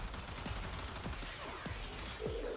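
Rapid gunfire from the sci-fi shooter game Warframe, bursts of shots crackling in quick succession against a constant dense backdrop of combat noise, steady and loud throughout with no talking.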